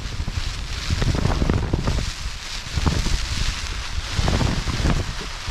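Strong 20–25 mph wind and heavy rain batter a mountain wildcamp, a dense, continuous roar of gusts and pelting rain close to the microphone, with no voices.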